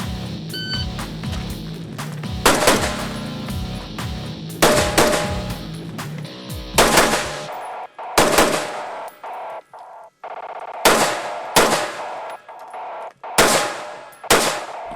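Rifle shots crack in sharp bursts during a 3-gun shooting competition stage, loud and near. Some shots come in quick pairs and others stand alone, with short gaps between them.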